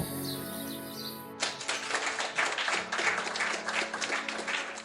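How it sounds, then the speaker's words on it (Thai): Loud applause erupts all around a film set as shooting wraps, a dense crowd of clapping that bursts in abruptly after a quiet opening and carries on steadily to the end. "เสียงปรบมือดังสนั่นโดยรอบ หลังจากผู้กำกับสั่งคัด"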